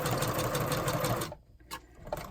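Sewing machine stitching through paper, a fast, even mechanical whir for just over a second before it stops, followed by a couple of faint clicks.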